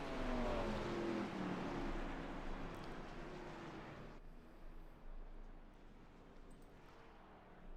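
A race car engine roars down the front stretch at Richmond in the iRacing sim, loud and steady at first with a falling pitch as it passes, then fading to a lower rumble.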